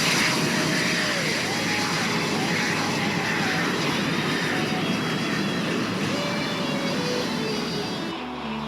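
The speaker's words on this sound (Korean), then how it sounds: "다른 전투기들도 속속 이륙 준비에 들어간다" A dense, roaring jet whine fills the air as F-5 fighter jets prepare for takeoff on a crowded air force runway, loud and continuous with shifting turbine tones, dropping off slightly at the end.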